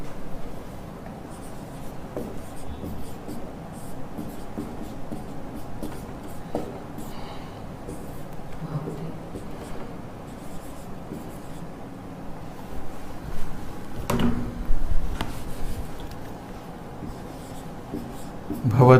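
Chalk or marker scratching on a classroom board during a Sanskrit lesson, with steady soft strokes and taps over room noise and a teacher's voice speaking intermittently.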